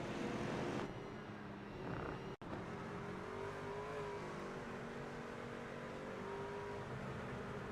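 Race trucks in the Truck Series at the Milwaukee Mile accelerate on the oval, a steady dense engine roar with rising revving tones, loud and sustained with a brief dropout.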